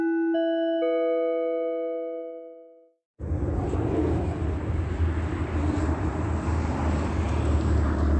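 A steady, broad roar of an airplane passing overhead, heard after a chiming tone fades and a brief pause, then continuing loud and unbroken to the end.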